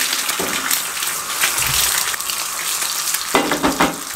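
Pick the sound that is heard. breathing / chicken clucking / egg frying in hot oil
egg frying in hot oil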